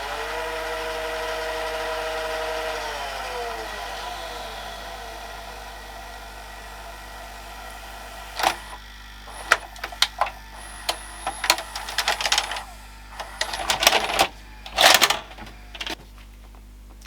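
A Panasonic NV-SJ200A VCR with a Z mechanism rewinds a tape, giving off a steady whirring tone that shifts in pitch as the spool speeds up. Clicks and clunks of the mechanism follow near the end.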